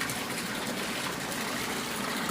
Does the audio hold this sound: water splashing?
yes